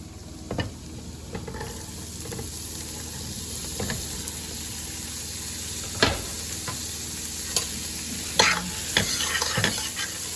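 Asparagus and garlic sizzle in a pot, a steady low frying hiss broken by occasional clinks and scrapes of stirring, close and moderately quiet with no talking.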